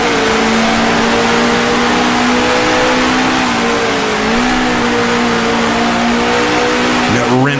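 A 1966 Formula One car in the Grand Prix Legends racing game roars loud and continuous, its engine note shifting as it downshifts to second gear into Copse corner, with tyres squealing under the engine.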